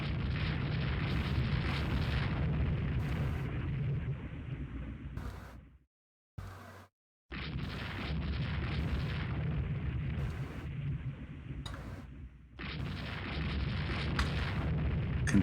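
Naval gunfire and shell hits from battleship turrets in the Rule the Waves 2 naval game, a fleet engagement in the Baltic, rumble as heavy, continuous booming and explosions, broken by two brief silences.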